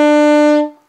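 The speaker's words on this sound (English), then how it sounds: "The first key we come to is the B note, which is the first one right there." A saxophone sounds a single B note, a loud, clear held tone lasting just over half a second before fading out quickly, with no voices present.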